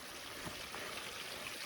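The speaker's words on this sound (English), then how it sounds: "there's a well here and then this little fountain to draw water from" Water trickles continuously from a small fountain at Crystal Well, a soft, even outdoor splashing that stays steady and fairly faint, with no talking.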